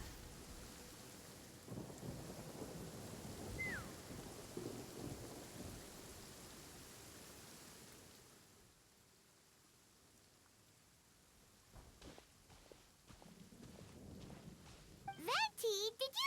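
Steady rain hisses and thunder rumbles in a Genshin Impact storm. The downpour thins partway through, then swells again with short bright in-game tones near the end.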